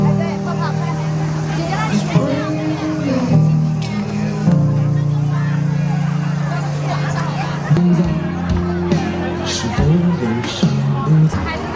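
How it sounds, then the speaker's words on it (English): A steady hubbub of many voices at bars along a river in China, with overlapping chatter and talk close by and traffic murmuring underneath throughout. "These bars sit right along the water, attract crowds for far more than just food and drinks."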